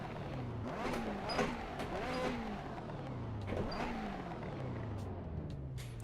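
A car engine in Assetto Corsa revving up and down through repeated rising and falling sweeps, steady and fairly close, with gear changes breaking the pitch climbs and no talk over it.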